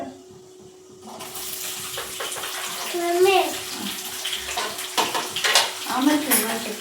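Water runs and splashes in a home bathroom on a cold, misty winter morning, with clatters of a bucket or vessel and brief voices partly under the continuous wash.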